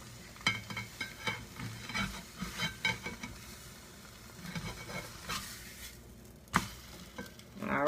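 An egg fries in a pan, with soft crackling sizzle broken by repeated scraping and tapping of a utensil, a sharper clack near the end, and no talk.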